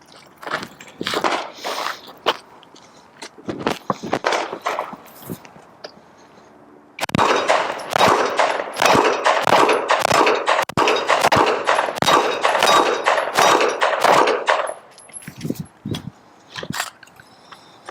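Rapid pistol shots from a Sig P365 at an outdoor range, first in a short scattered string, then a long dense run of quick, loud reports, with a few final shots trailing off.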